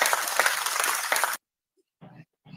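Applause from a small group in an online audio space, a steady dense patter lasting over a second and then cutting off abruptly, followed by silence and brief bits of talk.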